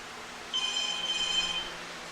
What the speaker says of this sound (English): My phone keeps ringing.